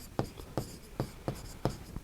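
Chalk or marker tapping and scratching on a classroom board in quick, evenly spaced strokes, close and fairly quiet against a faint room hiss.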